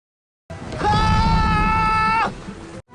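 An animated character screams a sustained, strained cry while practising the lion roar technique, one loud held scream of about a second and a half, rising sharply and cutting off, alone without other talk.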